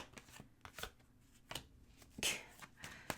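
Tarot cards being shuffled before a reading: quiet, close riffling and soft card slaps in an uneven rhythm, with a brighter flutter partway through.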